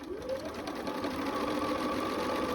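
A sewing machine stitches quilt fabric for a glorified flower garden block, a short close run of steady whirring and rapid needle strokes that starts abruptly.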